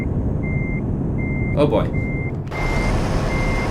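Reversing beeps from a truck in Euro Truck Simulator 2 repeat in a steady rhythm over a constant engine hum, with a brief voice breaking in midway.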